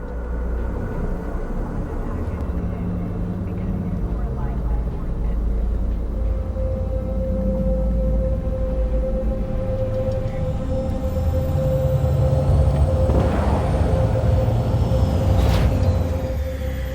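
A futuristic flying vehicle sets down for a landing in Cyberpunk 2077, a steady loud engine hum with a sustained tone, rising turbulence and a rushing whoosh near the end.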